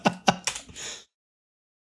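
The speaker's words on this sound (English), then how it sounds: "Was just typing that word." A few quick keystrokes on a computer keyboard, close and fairly soft, in a short burst lasting about a second before silence.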